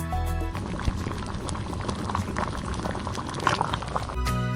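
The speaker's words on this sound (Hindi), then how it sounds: "तभी रसोई से दूध के उबलने की आवाज आई।" Milk boils over on a stove: a steady, bubbling, rushing liquid sound, like something boiling hard, continues without a break for several seconds.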